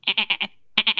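Goats bleat in a quick run of four nasal, wavering cries, then a short pause and three more, close and loud.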